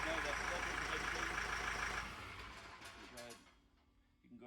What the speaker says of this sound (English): Start it up, you know everything's good for the engine.